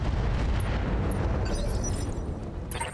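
Weapon fire and a rumbling explosion from a BattleTech battle, a dense roaring blast that holds loud for a few seconds with crackling bursts on top, then slowly eases off.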